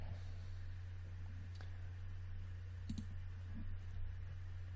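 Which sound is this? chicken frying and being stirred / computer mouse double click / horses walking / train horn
computer mouse double click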